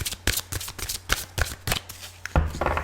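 Archangel Power tarot cards by Dorian Virtue are riffled and shuffled in a rapid run of crisp, close papery slaps and flutters, with no talk over them.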